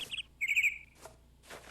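Bright bird chirps and tweets from the Minecraft video game, several quick high calls in short bursts with brief gaps, fairly close and clear, with no talking.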